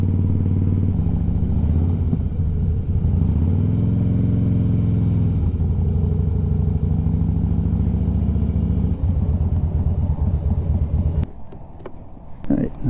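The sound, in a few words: Harley-Davidson motorcycle riding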